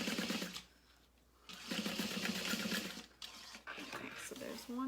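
Sewing machine stitching a double seam on a fabric makeup bag, a close, steady mechanical whir in runs with a short stop partway, while a person talks over it.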